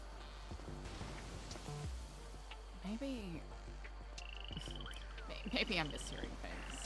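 A faint toad croaking in the video game GTA NoPixel appears as short trilled pulses late in the moment, partly masked by voices and ambient game noise.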